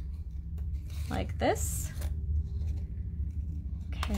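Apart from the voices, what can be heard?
scissors trimming around a shell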